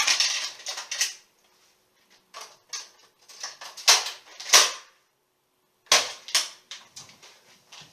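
A Nerf Barrel Break blaster fires foam darts in sharp, close snaps and clicks. The shots come in quick clusters separated by short quiet gaps.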